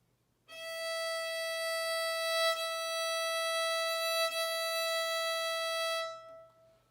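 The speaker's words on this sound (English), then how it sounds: "the high string is called the E string" One long, bright bowed note on a violin's open E string held steadily for several seconds, ringing clear and alone before fading out.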